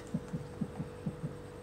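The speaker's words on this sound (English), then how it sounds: "a heartbeat." A faint, low heartbeat thuds in steady paired pulses, about three double beats over a soft continuous hum.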